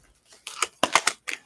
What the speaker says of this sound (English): I'm going to flip over all the cards I may channel while I do so